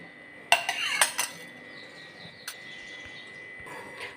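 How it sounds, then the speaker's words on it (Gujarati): A utensil stirs an oil and cornflour mixture in a pan over a medium gas flame, giving a few sharp metallic scrapes and clinks early on, then quieter intermittent scraping with a faint steady hum. "તો મીડિયમ ગેસની ફ્લેમ પર સતત આપણે આ રીતના હલાવતા જશું."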